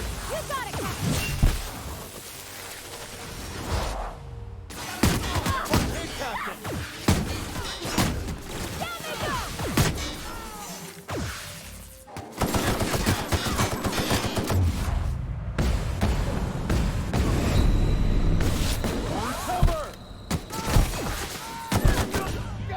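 Bursts of rapid gunfire and shattering impacts from combat in The Outer Worlds video game, with loud volleys and quieter gaps mixed with game voices and talk.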